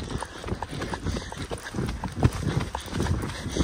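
A horse named Quantum gallops in a rhythmic, fairly close series of hoof beats with a three-beat clip-clop cadence, loud and steady, with faint background sounds and no clear speech.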